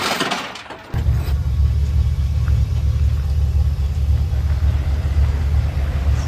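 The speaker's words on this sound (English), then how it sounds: "Zeb's new truck" Zeb's new truck with its engine rumbling steadily and loud at close range after a short burst of clatter at the start, with no talking.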